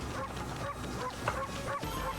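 Dog enemy from the video game Okami, giving short yipping barks and whimpers in an up-close battle over steady game sound.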